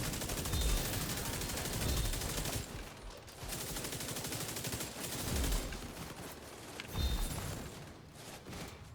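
Bursts of rapid video game gunfire come in several loud volleys separated by brief pauses, with heavy low thumps beneath the shots.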